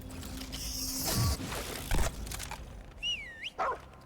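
A cute dog in the video game Remnant 2 barks and whimpers a few times in short bursts, with game sound effects, chirps and mechanical noises around it and no talking.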